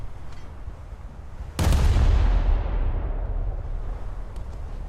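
A naval broadside fired from a boat in War Thunder, one sudden loud booming blast from several guns going off together, its heavy rumble rolling on and slowly fading over steady engine and sea background.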